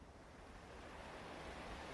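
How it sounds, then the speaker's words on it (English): Ocean waves from the Arknights video game wash in as a soft, continuous roar of surf, steady and faint, with nothing else heard. "the sound of the ocean waves flood his brain just as it did before"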